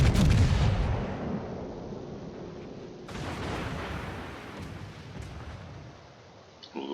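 Heavy Bismarck battleship main guns fire in a naval video game, two loud booming salvos a few seconds apart, each with a long rumbling tail fading away.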